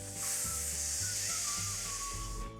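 Air hisses steadily out of a party balloon as it is deflated down to size, a bright, continuous close-up hiss with faint rubbery squeaks underneath.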